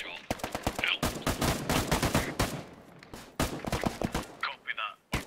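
Heavy gunfire erupts in the military shooter Arma 3 during a campaign mission set in Afghanistan. Rapid machine-gun bursts and single shots sound close and loud, with short pauses and some radio-style talk mixed in.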